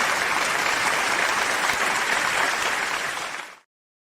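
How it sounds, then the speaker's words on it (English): A large crowd applauds steadily and loudly, dense and continuous, then the clapping cuts off abruptly near the end with no talking. "That's the masses there clapping for Ted's arrival back."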